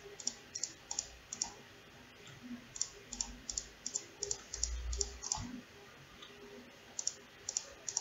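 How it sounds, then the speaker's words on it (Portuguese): Computer mouse clicking on a desk while vertices are placed in Google Earth, a series of sharp, quiet, close clicks at uneven intervals over faint background noise, with a few soft low thumps. "Aqui no caso eu vou clicando"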